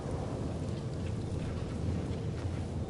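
A thunderstorm in the video game Life is Strange, a steady heavy roar of rain with low rumbling, continuous and enveloping with no distinct claps.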